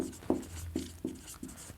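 Chalk or marker strokes on a board during a lecture, several short scratchy taps and scrapes in an uneven rhythm, close and moderately loud with no speech over them.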